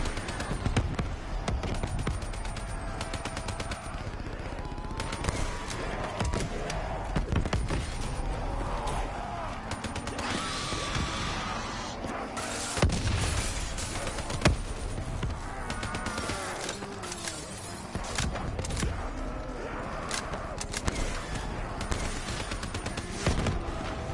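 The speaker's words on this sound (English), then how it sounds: "Why are you shooting at me, man?" Dense gunfire rattles in Call of Duty Black Ops 3 Nightmare mode, with rapid repeated shots and sharp bursts layered over constant busy game noise.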